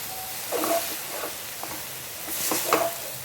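Mashed jackfruit and spice paste are stirred in a pan for a Kerala-style thoran, giving soft scraping strokes over a faint sizzle, with two louder bursts of stirring near and alone.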